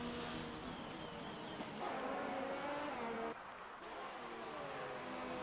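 Formula 1 cars racing at the Chinese Grand Prix circuit in the F1 2019 video game: a continuous engine whine with shifting pitch, cars revving and passing, heard quietly at low volume with no talk over it.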